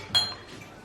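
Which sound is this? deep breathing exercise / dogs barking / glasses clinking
glasses clinking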